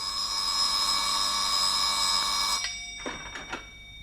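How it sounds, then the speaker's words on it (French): An office telephone in a 1961 radio drama rings steadily for a couple of seconds, then cuts off. A few faint, brief tones follow in the quiet. "le téléphone se met à sonner à 10 heures juste dans le bureau de M. Archibald Finlay"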